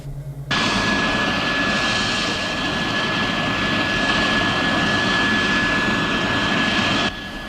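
An F-116 hypersonic fighter jet engine roars up abruptly and holds a loud, steady, full-bodied rush with a high whine on top, then cuts back sharply near the end.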